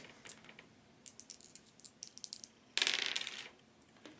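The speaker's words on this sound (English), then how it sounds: "Roll 2 dice. Need 3s or better." Two dice rolled for a Warhammer Quest Silver Tower game clatter briefly, with a scatter of light ticks followed by a louder, denser rattle as they tumble and settle on a hard surface.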